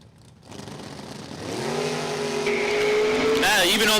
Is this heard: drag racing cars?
yes